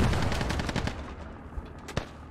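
Bursts of automatic gunfire from a military shooter video game: rapid loud volleys early, then thinner, scattered shots and a sharp single crack near the end, no talking.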